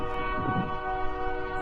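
A passing train lets out a loud, sustained horn blast near a college women's soccer field, with rolling rail rumble beneath the tone.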